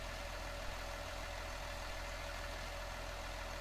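In Farming Simulator 19, a tractor engine tows John Deere equipment with a constant low, throbbing drone that never changes pace. The engine sounds moderately loud and steady, and no voices come in.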